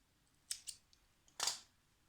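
Scissors snip crochet yarn in a quiet room, two quick light cuts followed by a longer, louder snip, close and alone.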